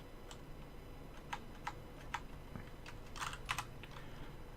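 Faint, sparse clicks of keys on a computer keyboard, a handful of isolated taps followed by a quick short burst, quiet against a steady background hiss.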